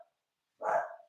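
A single dog bark rings out at moderate distance after near silence, short and fairly faint, with a tiny trace of another sound at the very start.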